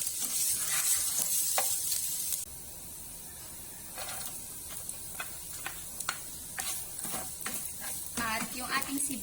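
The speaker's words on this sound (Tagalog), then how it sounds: "Kapag nag-brown na po konti yung ating luya, saka naman natin i-next yung ating bawang at sibuyas." Garlic and onion go into oil with browned ginger for octopus adobo, producing a loud hissing sizzle that settles to a steady fry with repeated spatula scrapes and clatter, without any talking.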